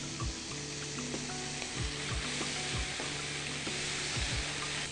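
Meat sizzling steadily in a hot pan with white vinegar and cumin, a dense continuous frying hiss with occasional scrapes and stirring clinks, close and loud.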